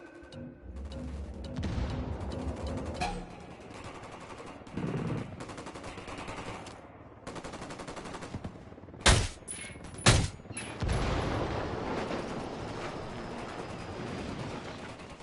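Gunfire rattles through a Ghost Recon Wildlands firefight, sustained bursts of automatic fire echoing with a couple of sharp, louder shots near the middle, fairly loud and dense with no voices.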